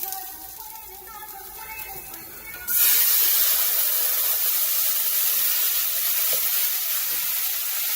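Cooking wine hits a hot pan over a high flame for shrimp pasta, bursting into a sudden loud, steady hissing sizzle that carries on evenly after a quieter start.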